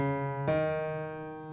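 Piano sounding a B note for a song, one struck chord ringing out with a fresh attack partway through, sustained and decaying, clear and moderately soft.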